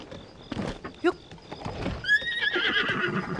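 A horse whinnies in a video game, a rising and falling neigh near the middle, with hoofbeats, game sounds and a speaking voice around it.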